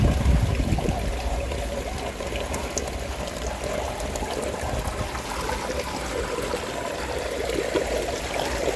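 Pond water flows steadily out through a vortex pipe, a constant rushing gurgle close by that grows slightly louder partway through.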